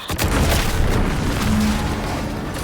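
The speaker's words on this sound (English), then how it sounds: "What's that? An explosion?" An explosion in The Outer World 2 video game: a loud, deep, rumbling boom that starts sharply and roars on steadily for about three seconds, with no talk over it.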